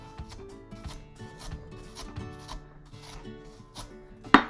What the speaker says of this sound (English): really get in there with your spoon and push